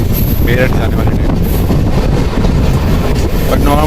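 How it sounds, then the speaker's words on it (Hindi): A Holi special train runs on the Deoband Road main line, giving a loud, continuous rumble with rattling and strong wind buffeting close to the microphone. A brief high squeal cuts through partway in. "और अभी इस ट्रैक पर चलेगी एक होली स्पेशल ट्रेन"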